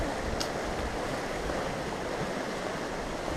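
A river flowing beside a reservoir trail, a steady, dense rushing wash with no breaks, heard close and fairly loud.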